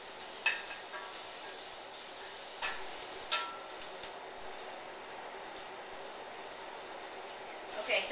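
Shrimp and tofu simmer-fry in a pan with a little water, making a faint, steady sizzle with a few light clicks and stirring taps.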